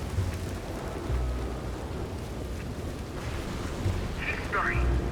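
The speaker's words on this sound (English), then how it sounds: "I don't want to be out in this storm. The lightning, it is too close." Steady rain and rolling thunder fill a thunderstorm in Red Dead Redemption 2, with low rumbles swelling a few times beneath a constant wash of rainfall.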